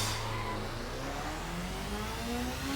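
A motorcycle engine howls at very high speed, near 400 km/h, in the racing game The Crew. The steady, loud drone climbs slowly in pitch across the whole stretch, and no voices are heard.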